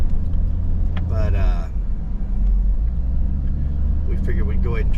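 A car drives past on a rural road, its engine and tire noise rising to a steady loud rumble then easing, with brief bursts of people talking nearby.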